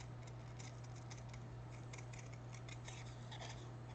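Purple scissors snip craft paper for a miniature bake shop kit, a run of quick crisp cuts close up over a steady low hum.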